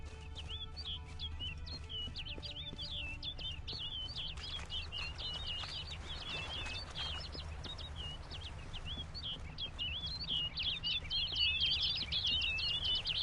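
Birds chirp and tweet steadily over a low, continuous ambient drone in the Witcher 3 game world, with quick repeated calls throughout that grow slightly busier and louder toward the end.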